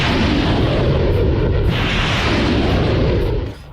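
A Smerch multiple-launch rocket system strike, heard as a loud, sustained roaring blast that rumbles continuously for several seconds before dropping off abruptly at the end.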